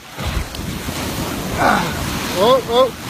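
Ocean waves wash in over a beach, a steady rushing surf mixed with gusty wind noise on the microphone, while voices exclaim briefly toward the end.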